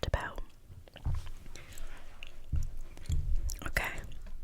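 Soft, moist chewing of a Tim Hortons walnut loaf donut with small walnut pieces, close to the mic, with crunchy bites mixed in among quiet whispering.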